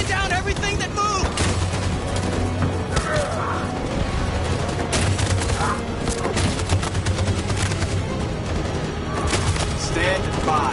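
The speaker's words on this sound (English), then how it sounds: "That machine gun is taking down everything that moves!" Dense machine gun fire fills the battle scene in Detroit: Become Human. Rapid gunshots and booms crowd together in a loud, unbroken volley that lasts throughout.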